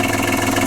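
Camper van engine idling steadily at close range, a constant mid-pitched drone with no change in speed over a short moment.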